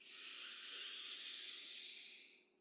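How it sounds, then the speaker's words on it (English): A single long, soft nasal inhale during a guided breathwork session, a steady airy hiss lasting a couple of seconds and fading at the end, close and quiet with no talking. "We're breathing in through the nose"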